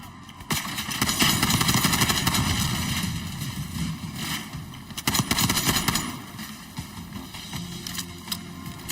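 Sustained gunfire in Call of Duty Black Ops 6, dense bursts of automatic weapon fire with sharp cracks and booming impacts, loud and continuous throughout.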